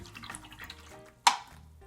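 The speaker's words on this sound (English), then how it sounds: "We're gonna wash our brush." A paint brush being washed in a cup of water makes soft sloshing and dripping, then a single sharp tap or clink against the container near the end.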